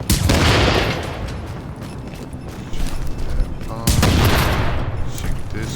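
Gunfire bursts in the shooter game The Division, loud and dense, with a heavy blast near the start and another near the end, continuous firing between them and a voice talking over it.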